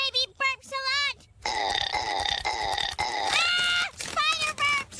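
A baby burps repeatedly, deep gurgling eructations with a grunting, pig-like quality mixed among high child vocal sounds, close and fairly loud during play with children.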